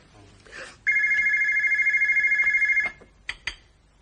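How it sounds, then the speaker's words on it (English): An old-style telephone bell in a household rings with a rapid trilling rattle for about two seconds, close and loud, framed by brief speech and small knocks before and after. "Are you going to answer that phone or what?"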